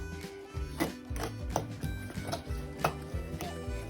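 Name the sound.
mixing chocolate muffin batter in a bowl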